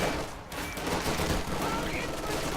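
Dense machine gun fire rattles continuously in Company of Heroes 2, with overlapping bursts and battlefield noise under a speaking voice.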